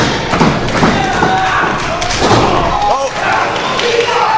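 Wrestlers at a live independent wrestling show thud heavily onto the ring mat from a half nelson atomic drop bomb, with loud impact thumps amid crowd noise and a brief exclamation from a voice.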